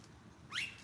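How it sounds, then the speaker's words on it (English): A bird gives a single short rising chirp from a tree, faint and close after quiet background, no talk. "Hello, beautiful birds."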